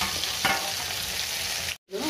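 Bitter gourd pieces sizzle steadily in a hot pan after a pinch of salt, a dense continuous frying hiss with a brief stir near the start and a sudden cut to silence before the sizzle resumes.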